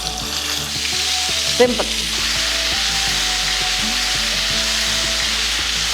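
Stuffed brinjals sizzle and simmer steadily in a pan on the stove, a constant close frying hiss with a brief clatter of stirring partway through; a voice speaks a single word.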